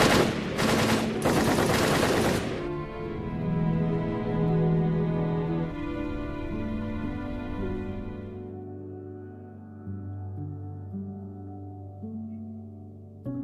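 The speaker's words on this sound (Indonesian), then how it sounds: "terdengar suara senjata yang menandakan bahwa tim Hongaria telah tewas dibunuh oleh pihak Nazi Jerman" Machine-gun fire from a film scene of Nazi German soldiers rips out in loud, dense bursts for about two seconds, then gives way to a swelling orchestral score that slowly fades.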